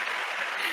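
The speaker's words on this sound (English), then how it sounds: "everybody's sitting there in the audience clapping" Dense audience applause, a steady wash of many hands clapping close and loud throughout the brief moment.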